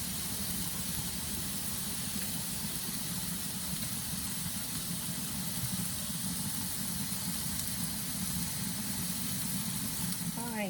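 Seasoned roast beef sears in a hot pan with a steady, dense sizzle and hiss that runs continuously and close up, without pause.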